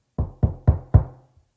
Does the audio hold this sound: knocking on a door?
yes